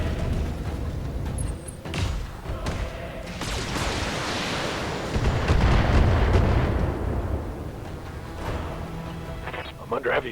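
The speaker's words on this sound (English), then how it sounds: "I'm under heavy fire here." Heavy weapons fire and explosions in the Battletech video game, with repeated booming bursts and a rolling roar that swells in the middle, and a voice talking over it.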